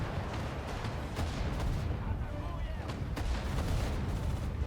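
Bombing and artillery fire in the Sudden Strike 4 war game, a dense, continuous rumble of distant booms and gunfire with sharper blasts scattered throughout.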